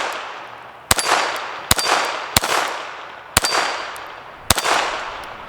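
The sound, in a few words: gunshots from an FN 502 Tactical .22 LR pistol at a steel target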